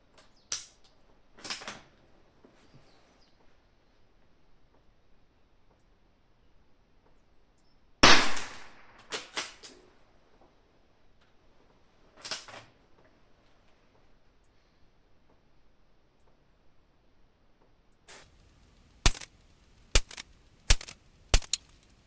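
Gunshots firing Magtech ammunition at a target, sharp isolated cracks spread out with long quiet gaps, ending in a quick cluster of four or five shots, fairly close.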